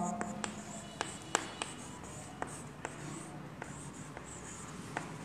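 Hand-writing of a fraction during a fourth-grade maths lesson comes through as soft pen-on-paper scratching with sharp taps and strokes at irregular intervals, fairly close and quiet.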